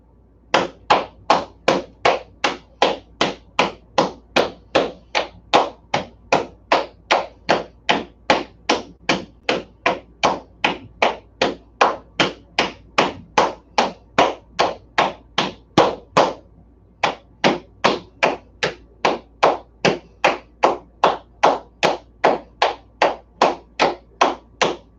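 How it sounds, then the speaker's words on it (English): Cupped hands pat the legs and knees in a qigong exercise, making a steady, rapid train of hollow slaps that repeats evenly for many beats, breaks briefly, then carries on at the same pace. "Now let's cup each leg or each knee."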